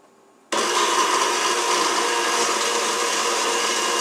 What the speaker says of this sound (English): Now we're going to blend this.